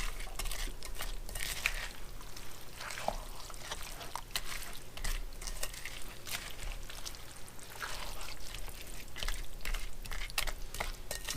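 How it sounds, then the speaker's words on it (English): Egg and cheese being stirred into a squash casserole mixture, a continuous wet, slushy churning with soft scraping, close and steady throughout. "Try and get everything mixed up, the egg and the cheese, everything kind of evenly distributed there"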